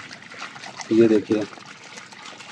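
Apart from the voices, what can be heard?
water poured into mutton for gravy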